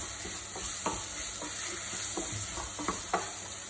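Mushrooms sear in a pan over medium-high heat for a vegetable biryani, a steady close sizzle broken by scattered soft knocks and stirring scrapes, with no talk.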